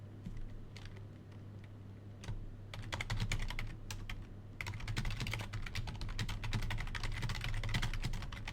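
Close, rapid clatter of a computer keyboard being typed on, keys clicking in dense irregular bursts over a steady low hum, with no voices.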